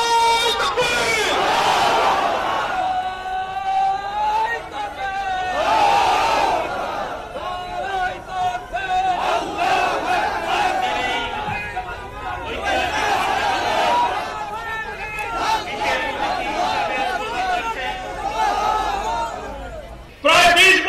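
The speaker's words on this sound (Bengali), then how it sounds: "তকবীরের মাধ্যমে শুভেচ্ছা জানাই। নারায়ে তাকবীর, নারায়ে তাকবীর।" A large crowd at a Jamaat workers' rally in Dumuria, Khulna, roars the takbir chant in call-and-response waves. Loud massed voices rise repeatedly over a leader's lines.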